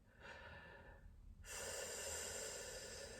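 Breathing in during a singing breath-support exercise, first a faint breath and then a strong, sustained inhalation that holds to the end. Close to the microphone and fairly soft, with no speech.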